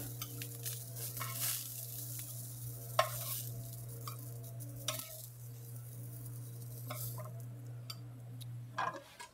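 Beef fillet for Beef Wellington sears in a pan with a continuous close sizzle, broken by a few sharper bursts and light scraping clicks, under a low steady hum and with no voices.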